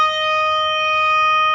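A single guitar harmonic at the 12th fret rings as one steady, bell-like sustained tone at moderate volume, alone and unbroken throughout.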